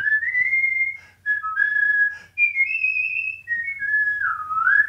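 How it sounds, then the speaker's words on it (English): A man whistles the tune Dixie, a clear, bright melody of sustained and sliding notes in several phrases with short breaths between them, close and alone with no talking. "You want me to whistle you a tune? Yeah, go ahead. Whistle Dixie."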